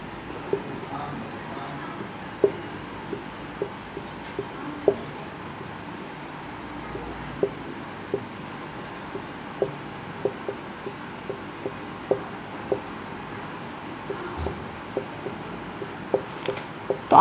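Chalk or marker tapping and scratching on a board in a math class as a teacher writes out the factorisation of 2400, a steady run of short, evenly spaced taps over a low hum of room noise.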